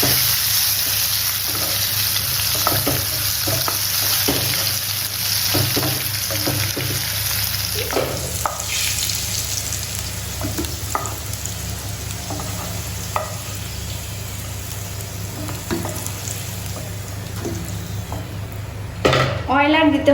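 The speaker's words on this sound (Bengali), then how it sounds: "আলুগুলো ফ্রাই হয়েই যাচ্ছে" Potato pieces fry in hot oil in a pan with a steady sizzle, broken by clinks and scrapes of a spatula or utensil against metal, close and fairly loud, with a voice briefly near the end.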